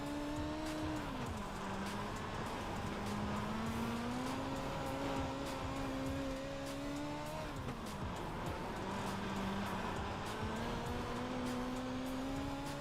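A race car driven through a corner under throttle, its engine holding a steady drone that rises and dips as revs change, with a light tire squeal throughout and no voices.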